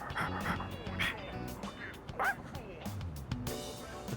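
A dog in the video game Persona 3 Reload gives short yips and whimpering barks scattered over a few seconds, moderately quiet, mixed with talking.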